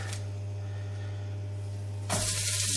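A handful of endives dropped into hot olive oil in a pan over very high heat, a loud burst of sizzling starting partway through above a steady low hum.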